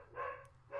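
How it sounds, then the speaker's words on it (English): A dog barks twice in short, clear bursts, close by and fairly faint, with no one talking over it. "that dog barking was more eventful than the segment"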